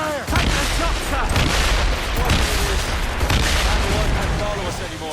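Ship cannons firing in a naval battle in Assassin's Creed Rogue, a dense, loud barrage of booming blasts and crackling impacts that runs without a break, with shouted voices mixed into the chaos.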